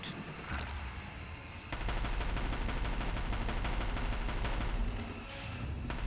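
Aloy firing a gun in the video game Horizon Zero Dawn, with a burst of rapid automatic gunfire lasting about three seconds, loud and close, amid game ambience.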